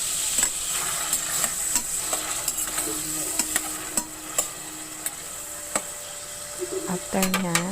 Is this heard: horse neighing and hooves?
no